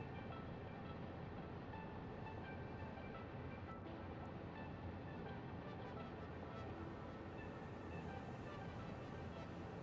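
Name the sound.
train running between stations in a video game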